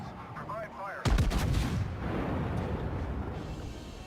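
Heavy naval guns boom from a warship in World of Warships, a sudden loud salvo of close blasts followed by a long rumbling roar that lingers, with a brief voice just before the shots.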